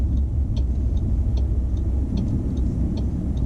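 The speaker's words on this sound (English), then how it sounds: "I'll try and get a softer brake this time" A car slows and pulls up during a driving lesson, a steady low engine and road rumble with a faint regular indicator ticking throughout, close and even.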